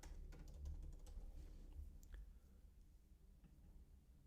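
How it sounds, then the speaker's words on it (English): Keys click on a computer keyboard in quick, irregular bursts of soft taps, close and faint, then slowing to a few isolated presses. "I'm going to type it in."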